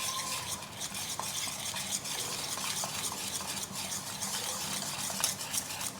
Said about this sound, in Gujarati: તો થોડી થોડી છાશ નાખતા મિક્સ કરતા જઈશું।